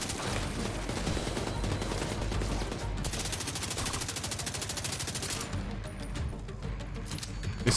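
Rapid automatic gunfire from a console shooter game rattles in sustained bursts, dense and loud, with brief pauses between strings of shots and faint talk underneath.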